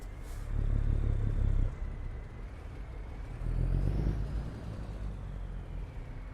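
A heavy truck engine in low gear, from American Truck Simulator, rumbles steadily and loudly with two swelling surges of deeper revving as it maneuvers to back in, no voices over it.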